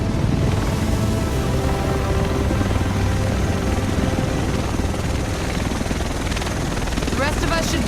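A helicopter in Tom Clancy's The Division drones loud and steady throughout, a dense rotor roar filling the scene while voices talk over it.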